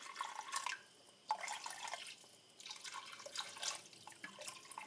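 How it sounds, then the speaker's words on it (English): Water splashes and trickles from a tap into a cooking pot for boiling oxtail, a close, uneven pouring that comes in several bursts with short pauses. "We're going to add about 2 cups of water because the whole idea is to boil it"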